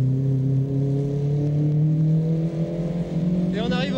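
Onboard a 1975 Renault R17 Gordini race car at Monaco, the engine drones loudly and steadily with rising pitch through the gears, and a voice comments over it near the end.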